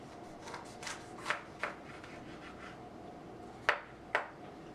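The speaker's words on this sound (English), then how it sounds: "Chop up our red bell pepper first." A knife cuts through a red bell pepper on a board in a quiet kitchen, giving a few soft, sparse crisp slicing taps with no talk.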